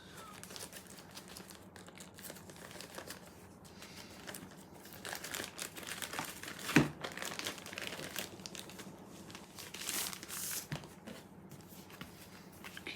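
Dice Throne Adventures board game packaging being opened, with soft crinkling plastic and cardboard handling throughout and one sharp crackle near the middle, close and fairly quiet, with no talking.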